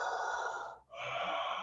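A person's voice imitating Darth Vader's heavy mechanical breathing, one long rasping inhale-exhale pair with a short gap between, close and loud with no words.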